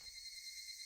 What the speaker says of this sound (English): a cicadas cries fills the air